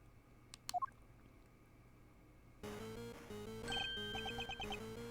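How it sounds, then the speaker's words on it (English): A cell phone rings in the Ace Attorney Investigations 2 video game, starting as a few sharp chirps, then a melodic ringtone over a buzzing background tone, growing louder, with no talking. "Mr. Edgeworth, it's Judge Gravel's cell phone."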